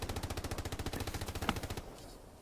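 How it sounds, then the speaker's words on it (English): A machine gun hip-fired in the World War II shooter Hell Let Loose, one steady rapid burst of shots at an even rhythm lasting about two seconds before cutting off. "Yodachu with his hipfire machine gun again."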